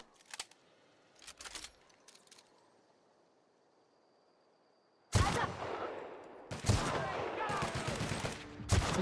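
Weapon fire in The Outer Worlds: a few faint clattering shots early, then after a quiet stretch two loud, dense bursts of gunfire close up.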